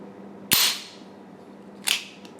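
A Beretta pistol's slide is released and snaps forward with a sharp metallic clack, followed by a second, lighter click about a second and a half later, close and clear.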